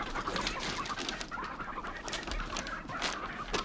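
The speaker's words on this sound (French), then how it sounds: "Mais c'est pas un poulet?" Chickens clucking close by, a busy overlapping flurry of clucks and squawks that continues without pause and without speech.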